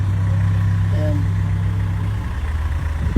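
A car idling with a loud, rumbling exhaust, a steady low drone throughout, heard close up at a roadside car-buying spot in Cavite, with people talking over it.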